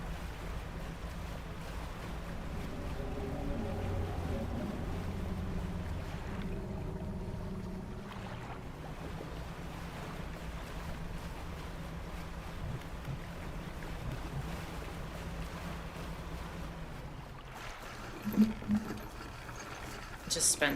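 Boat sailing across open water in the fishing game Dredge, a steady low wash of waves and wind rolling under a voice talking throughout, with a brief louder splash near the end.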